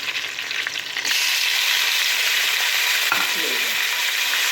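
Loud steady sizzle of chicken frying in a pot with tomatoes added, a sudden surge in the hiss near the start and an occasional stirring scrape, close and continuous.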